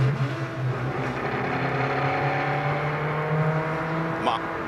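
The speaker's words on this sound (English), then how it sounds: "Mario moving up through the gears." An IndyCar race car at Joliet, Chicago accelerates through the gears, a rising engine whine with steady harmonic tones and a shift near the end, mixed under broadcast commentary.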